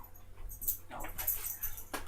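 A puppy named Annie gives a short run of whimpers and yips, close to the mic, in uneven bursts with brief gaps between them.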